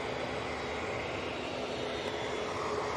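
A Cathay Pacific airliner taxis at Manchester Airport, a steady distant engine whine and broadband roar holding evenly throughout with no talking.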